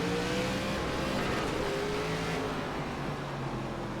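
The pace car pulls away at the green flag on the Irwindale inner oval in iRacing's ARCA West Series, a loud, steady engine drone with a rising whine under the continuous roar of the race cars.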